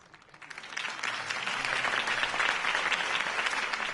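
Crowd applause and cheering follow a campaign speech by Harvey Dent in the Batman Telltale Series video game, a dense, sustained clapping that swells after the first half second and holds steady.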